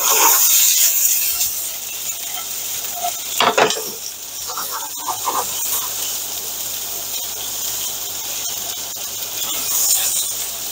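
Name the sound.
red onion frying in oil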